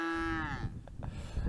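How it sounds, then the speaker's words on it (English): A cow on a hilltop pasture in rural Bosnia lets out a single long, drawn-out moo that fades after about half a second, followed by quiet outdoor background. "There's a cow looking at me, so interested."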